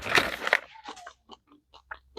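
A person bites into a crunchy fig snack, with two sharp crunches followed by softer, irregular chewing sounds, close and quiet.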